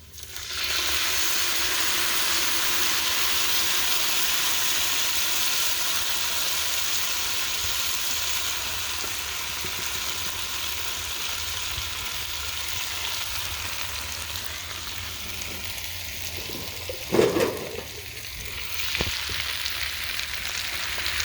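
Salsa poured over chips in a pot sizzles loudly and steadily, a dense continuous hiss with occasional stirring scrapes and a brief clatter near the end, no voices present.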